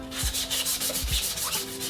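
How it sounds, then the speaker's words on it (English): Sandpaper rubs back and forth across a repaired plastic car bumper in steady, close strokes, a rhythmic scratchy rasp repeating about every half second with no talking. "Okay, so just giving this a nice sand now"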